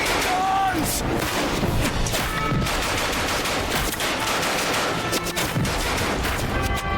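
Machine gun fire in the video game Ad Infinitum, a dense, continuous rattle of rapid shots with booming impacts, loud and close throughout, with a voice briefly heard over the din.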